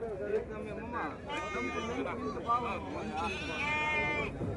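Ongole Judipi sheep bleat repeatedly at the busy Gudur sheep market, several overlapping close calls rising over constant crowd chatter and people talking.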